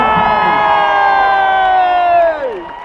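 A crowd cheers at a leadership campaign rally with a loud, sustained roar and whooping that swells, then tails off in a falling cry near the end.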